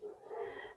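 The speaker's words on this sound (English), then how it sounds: "My dogs are going nuts." A single brief, muffled dog bark or yelp sounds from somewhere else in the house, faint and short, with a breathy tone.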